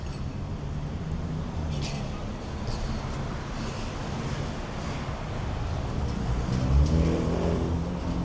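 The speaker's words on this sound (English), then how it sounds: "Take a look at the freeway" Continuous broadband roar of freeway traffic in Los Angeles, a steady wash of passing cars with wind buffeting, swelling slightly louder toward the end with a heavier vehicle rumble.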